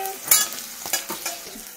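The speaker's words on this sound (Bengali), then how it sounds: "পেঁয়াজ রসুন দুটোই হালকা করে ভেজে তুলে রাখতে হবে, বেশি ভাজতে যাবেন না" Onion and garlic frying in a pan, stirred with a few scraping strokes over a light sizzle, close and fairly loud in a short burst.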